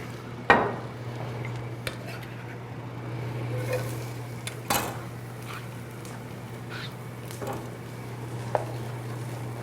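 Broccoli cooking in a pan with zucchini and squash, with a steady sizzle underneath and sharp clinks of a utensil against the pan at scattered moments.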